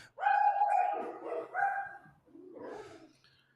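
Dogs barking excitedly at deer in a yard, a burst of several loud, close barks and yips in quick succession, then a short pause and a final rougher bark.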